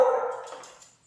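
A single dog's bark that trails off into a fading yip, one short loud burst close by, indoors with nothing else audible.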